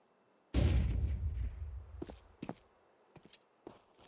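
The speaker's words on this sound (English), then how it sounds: "QB may have just heard his footsteps back." Footsteps in Counter-Strike, a sharp loud impact followed by a few scattered quick thuds and scuffs, close and irregular, with no talk over them.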